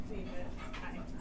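A neighbor's dog walking past a porch gives a few short barks and whimpers, mixed into steady background noise with a voice speaking over it.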